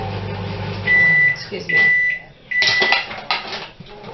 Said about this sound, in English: Microwave again.